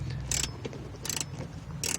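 Bolt being tightened on a Toyota Tundra rear seat buckle, three short bursts of ratchet clicking separated by pauses, close and moderately loud over a low background rumble.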